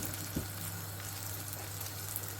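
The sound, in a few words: eggs frying in hot oil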